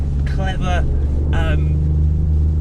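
A 2019 BMW i8 Roadster hybrid with electric motors and a mid-mounted petrol engine on the rear axle, driven on wet leafy roads in Portugal, gives a steady low cabin rumble beneath a man's speech.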